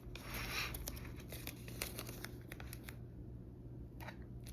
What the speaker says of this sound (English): we're going to take a few pieces of painter's tape and we're just going to lay that across in one direction